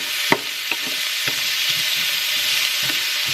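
Food browns in avocado oil in a hot pan, a steady, close sizzle with a bright hiss. Soft knocks and scrapes from stirring or turning the pieces come through at irregular intervals.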